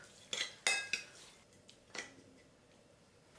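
An egg mixture with ham sausage, soy sauce, salt and cooking oil is stirred in a bowl, quiet utensil clinks and taps in a few quick strokes, close and faint.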